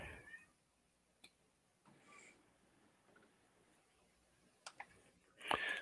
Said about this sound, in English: My stupid cat's going around meowing, trying to get attention.